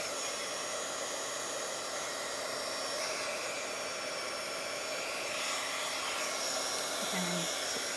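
A hair dryer blows steadily on a glitter napkin journal page, a constant close airy whoosh that runs the whole time with a slight rise near the end.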